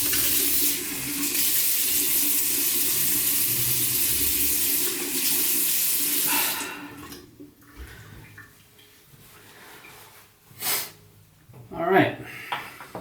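Tap water runs steadily as a shaving brush head is wetted, a continuous splashing hiss for roughly six seconds that then cuts off, leaving faint clicks and handling noises.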